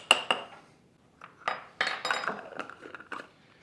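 Spoons and knives set down one by one on a table laid for a fireside Christmas afternoon tea, giving a few separate light metallic clinks and taps with short pauses between them, close by and fairly quiet, with no talking.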